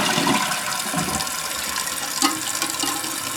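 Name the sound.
toilet flushing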